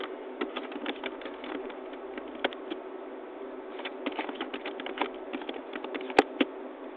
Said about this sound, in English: And then maybe here I type educational information.